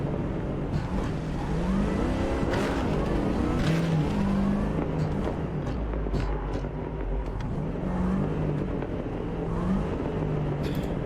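Video game car driven roughly through city streets, engine droning and revving continuously up close with shifting pitch sweeps and occasional tire noise, no talking.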